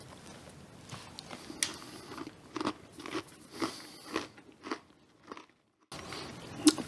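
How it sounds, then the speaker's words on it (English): Homemade toffee in a Heath or Skor style bar is bitten with a crisp snap and chewed, giving a series of close, sharp crunches in an uneven rhythm, a brief silence, then more crunching. "The toffee has a perfect snap, which you may have heard"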